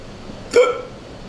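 A single hiccup from a man, sharp and close with a short voiced tail, standing alone against a quiet room with no speech around it.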